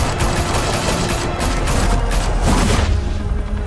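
Sustained gunfire from a Batman Telltale Series video game shootout, a dense, loud barrage of rapid shots and booms running throughout without a break.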